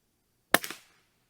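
A rifle fired at a shoot-and-see paper target gives a single sharp crack after a moment of silence, followed by a short trailing echo that fades within a few tenths of a second.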